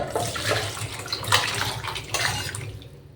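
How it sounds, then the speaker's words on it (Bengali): Water poured into a pan of shukto, the Bengali mixed-vegetable dish, as it cooks in a home kitchen. It gives a steady close splashing and gurgling rush lasting about three seconds, with no talking. "তো চলো এখন আমি জল দেওয়াটা সেরে নিই।"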